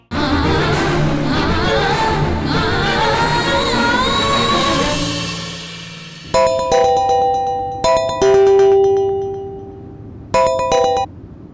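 Phone ringtone playing in short repeated melodic bursts with gaps between rings, loud and close, following a stretch of background music.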